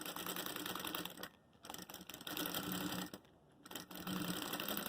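A sewing machine stitches a makeup case in a fast continuous whir, stopping briefly twice between runs, close by and steady, with no one talking.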